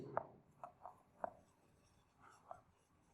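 Marker or chalk writing on a board in a physics classroom: a handful of faint, short strokes and taps spaced irregularly, quiet and close, no clear talking.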